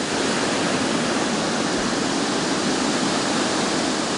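Curimataí waterfall pouring down a marble rock wall in the Serra de Minas, a steady, loud, dense roar of falling water that holds constant throughout.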